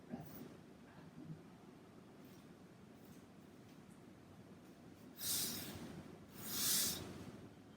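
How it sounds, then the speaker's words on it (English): Quiet, slow breath drawn in through the nose and released through the mouth during a yoga session, two soft airy exhalations near the end standing out over faint room noise. "you can breathe through your nose as you breathe in and out through your mouth as you breathe out"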